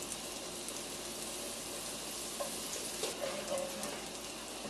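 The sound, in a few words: butter melting in a hot cast iron pan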